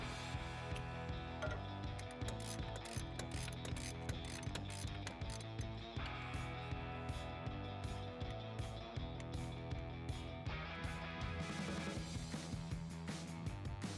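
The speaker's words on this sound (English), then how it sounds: "you're gonna grab a 10mm socket, and you may want an extension for this, and you're gonna remove the 2 bolts that hold on the coil pack" A ratchet with a 10mm socket and extension clicks steadily while backing out coil pack bolts on a 5.7L RAM 1500, a quiet, continuous run of fast mechanical ticks with no talk.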